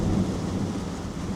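A thunderstorm heard from aboard a boat, a continuous loud rumble mixed with the hiss of heavy rain that stays steady and fairly close.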